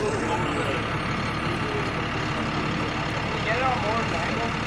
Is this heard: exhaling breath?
no